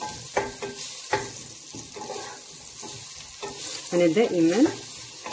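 Leeks sautéing in butter and oil, a continuous close sizzle with stirring clatter from a utensil, and a brief voice speaking partway through.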